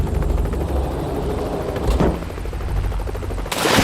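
Helicopter hovering over a rough, windy sea beside a fort, its steady loud rotor drone continuous throughout with a broadband gust or splash near the end.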